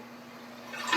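A one-piece toilet flushes gently, a soft steady rush of water that swells toward the end, quiet and close with no voices.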